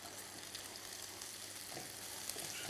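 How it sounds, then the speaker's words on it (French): A wooden spatula cuts an omelette in a frying pan, with steady soft sizzling of frying and faint scraping throughout, fairly quiet and without voices. "Une omelette que je vais couper à l'aide de la spatule en bois."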